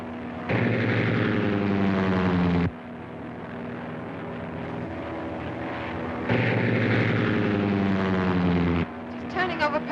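A propeller airplane engine in a 1937 aerial serial opens up to full throttle, a loud steady drone that surges in two strong bursts and drops back between them, with voices heard over it.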